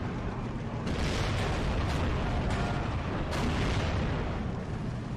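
Tank gunfire and explosions in the WWII strategy video game Steel Division 2, with T-34s and a StuG in a battle, a dense continuous roar with several sharp booming blasts layered over it, no talking.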